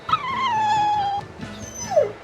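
A dog in the video game Tales of Berseria gives a rising, drawn-out whimper that slides down and trails off, followed by a second short whine, close and fairly loud over a low game background.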